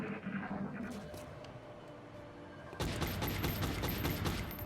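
Gunfire from the video game X-COM Long War, a dull rumbling ambience that jumps into a louder stretch of rapid cracking shots partway through, with no voice.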